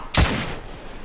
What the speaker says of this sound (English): I'm taking heavy fire!